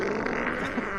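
A fart sound alert goes off on a livestream, one short loud blurt lasting about a second, alone with no voices.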